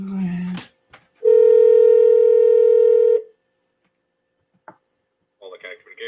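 A steady telephone dial tone hums for about two seconds after the redial button is pressed. It is framed by brief talk, a click, and faint voices at the end.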